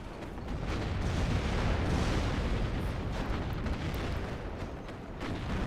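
Dense, continuous rumbling gunfire and artillery from a WARNO wargame battle fill the scene at a steady loud level, with no separate clear shots standing out.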